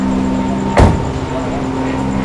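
A single muffled thud of a door closing, loud and near, landing once over a steady idling vehicle hum.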